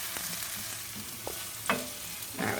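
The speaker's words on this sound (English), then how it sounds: "use a wooden spoon so I can mix that around" A wooden spoon stirs and scrapes sautéed kale around a hot pan, with soft clacks and shuffles over a steady sizzle and no voices.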